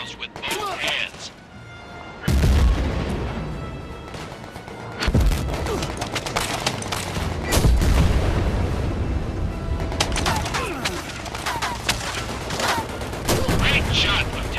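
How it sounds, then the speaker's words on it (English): Panzerfaust shots fired at a scout tank in the VR shooter Medal of Honor: Above & Beyond, heard as loud booming blasts amid ongoing gunfire and battle noise, with several heavy impacts through the clip. "shoot the scout tank with a Panzerfaust"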